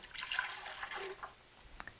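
Water poured into a cup for a grilled cheese recipe, a soft trickling splash that fades, then a few faint drips at the end.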